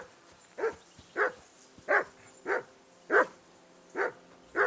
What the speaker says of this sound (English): Jesus, Henry, that barking's driving me nuts.